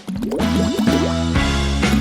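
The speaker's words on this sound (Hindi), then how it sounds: "और इसे पानी में टपकाएंगे।" A watermelon juice mixture drips into water from a bottle, each drop landing with a bright liquid plink in a quick irregular series, close and clear with no talking.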